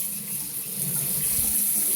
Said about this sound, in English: So just turn on your water. Put it on as warm as it can get.